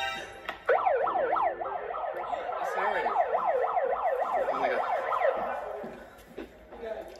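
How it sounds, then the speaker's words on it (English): A wailing emergency siren rises and falls in quick repeated sweeps, loud and fairly close, lasting several seconds before fading, with excited voices around it. "A siren."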